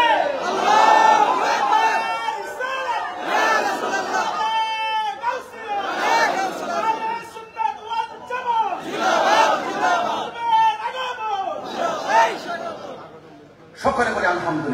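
A large crowd at a Bangla Islamic religious gathering chants a slogan in loud, repeated call-and-response bursts, voices roaring together in waves with short pauses between.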